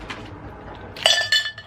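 Glass insert being lifted out of a budget candle holder, a quiet rustle followed by a couple of bright, ringing glass clinks up close.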